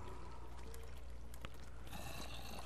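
Steady rushing flow of water through a Minecraft water tube, a continuous bubbling wash that holds at an even level throughout with a brighter hiss creeping in near the end.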